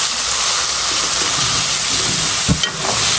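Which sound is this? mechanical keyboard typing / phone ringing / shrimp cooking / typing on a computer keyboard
shrimp cooking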